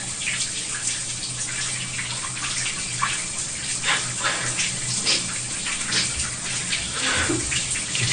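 Steady shower water running in the Big Brother house, a continuous hissing spray with splashing fluctuations throughout, close and moderately loud, with no voices.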